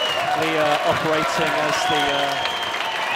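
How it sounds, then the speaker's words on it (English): A crowd cheering and applauding at the 2018 PSL finals match between Luxfords St George's Hill and Tradition, a steady loud roar of clapping and shouting under a commentator's voice throughout. "The crowd are going absolutely berserk here."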